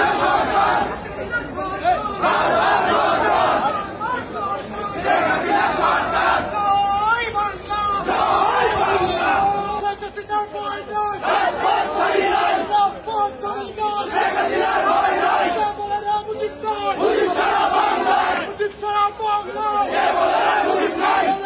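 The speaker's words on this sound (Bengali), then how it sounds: "এই জন্যই আদালতে আর স্লোগান ওঠে হাসিনার পক্ষে।" A crowd at a court chants slogans in support of Hasina, loud rhythmic bursts of many voices repeating in waves, close and dense throughout.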